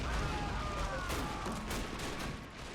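Dense gunfire from a World War 1 fortress defense battle in MoWAS 2, a continuous loud rattle of rifle and machine-gun shots layered with booms.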